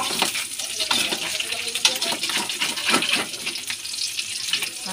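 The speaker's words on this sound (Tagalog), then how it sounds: "luto ng ating pritong isda" Fish frying in a pan as crackling, popping sizzle, busy and close, with bright spattering bursts throughout and no voices.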